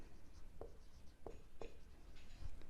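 Pen writing on paper in a commerce class on journal entries, soft continuous scratching with a few sharper strokes, faint and close over steady background hiss, no speech.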